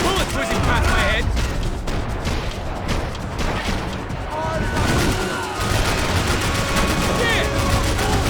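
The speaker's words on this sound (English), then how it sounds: "I can't concentrate with bullets whizzing past my head." Gunfire in the Max Payne 3 video game: dense, sustained bursts of shots with bullets whizzing past, loud and continuous throughout, with voices talking over the firefight.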